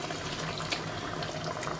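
Water pours steadily into a pot of chicken curry with bay leaves, a close, continuous splashing fill that stays even throughout with no talking.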